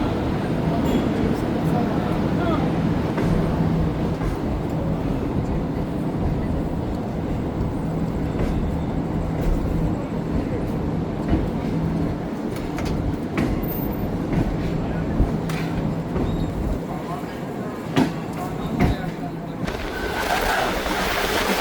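A passing train rushes by in a steady, loud rumble for most of the stretch, heard from aboard a Green Line passenger train on a Pakistani rail journey, then drops away near the end as the crossing ends; no talking.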